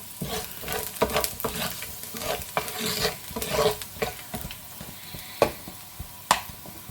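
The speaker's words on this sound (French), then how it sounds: "nous allons faire cuire les rouges et tout" Red mullet cooking in a hot frying pan with garlic, heard as a busy sizzle full of repeated clicks and scrapes from stirring utensils, and two sharper knocks near the end. No one speaks.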